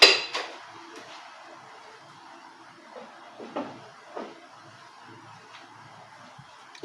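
A knife cuts through a tray of Palestinian harissa semolina cake made with peanuts and no baking soda, giving a handful of soft, scattered taps and clinks in a quiet room.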